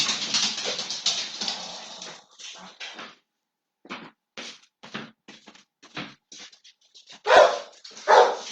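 Dogs bark in a rapid series of sharp, close yaps and whines, bursts separated by short pauses, with louder barks toward the end.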